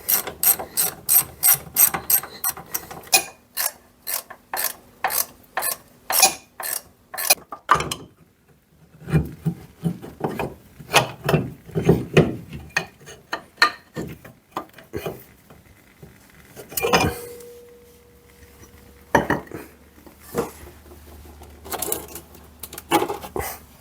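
A ratchet wrench works on a support screw of a Citroën C15, giving long runs of rapid, sharp clicking strokes in bursts with pauses, close up, with occasional clanks of metal between.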